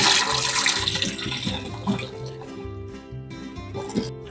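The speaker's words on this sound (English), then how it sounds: "we've already drained the brats" Water pours and splashes out of a pot of beer bratwurst as it is drained, a loud, continuous gushing and gurgling close by that eases off toward the end.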